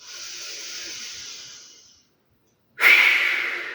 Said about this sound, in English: Really squeeze the breath out. So dynamic breath out.